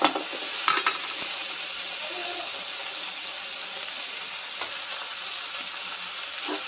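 Tomatoes cooking down in a pan until soft, a steady close sizzle and frying hiss running throughout, with a couple of light utensil knocks near the start and no talking.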